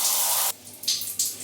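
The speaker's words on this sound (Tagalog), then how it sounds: "taking a shower." Water runs steadily in a home shower, a loud broadband rush that cuts off abruptly after half a second, followed by a few softer spattering bursts.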